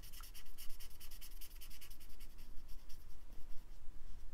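A pen scribbles quickly across paper, colouring in a small flower drawing made from book pages; close, steady scratchy rubbing strokes in a fast rhythm, alone and fairly quiet.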